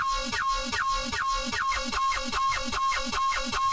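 A Serum synth bass patch sustains one long F note while being chopped into a steady, fast rhythmic pulse, like a buzzing, wobbling drone. It is even and continuous throughout, with no voices.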